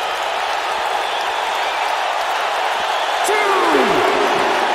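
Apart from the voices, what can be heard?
capacity crowd cheering at a wrestling show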